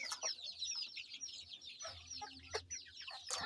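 Ayam Cemani crossbred with Silkie chickens cluck softly and steadily in close, chattering bursts. A few sharper calls stand out, and no voices are heard.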